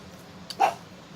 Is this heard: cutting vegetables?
no